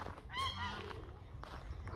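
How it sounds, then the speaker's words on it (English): Ducks give a loud honking call near the start, a couple of harsh nasal honks, then the sound fades into quieter outdoor background. "You can see the ducks for a bit."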